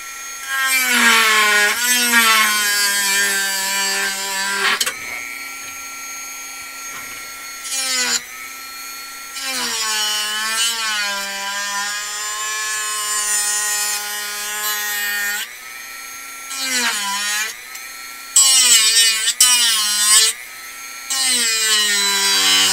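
A build piece is cut and ground away with a power tool, producing a loud, harmonic whining rasp that comes in repeated strokes with brief pauses between them.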